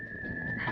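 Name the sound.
whistling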